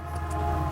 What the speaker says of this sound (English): That's the 6 o'clock train.